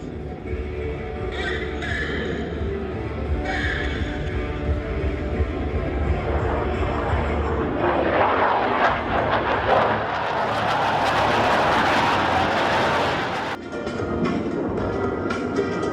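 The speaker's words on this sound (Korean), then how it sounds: "일곱 대의 항공기가 부채꼴 모양으로 펼쳐지는 장관을 그리며 에어쇼의 피날레를 장식했다" Black Eagles jet aircraft roar through an air show finale as seven planes fan out overhead, a loud continuous rushing drone that swells and peaks mid-way, with a voice talking over it throughout.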